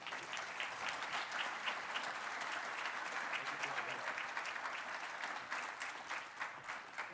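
Audience applause welcoming Senator Edward J. Markey to the podium at a government affairs forum, a steady, dense wash of clapping from a sizable crowd that holds at an even level throughout.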